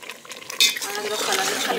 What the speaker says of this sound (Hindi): अभी बस फ्राई कर रही हूँ मैं उसको तब से